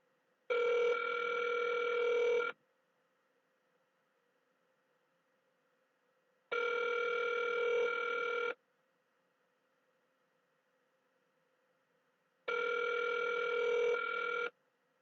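A telephone rings back on an outgoing call, giving three evenly spaced two-second ringback tones about six seconds apart, clear and alone over a faint line hum.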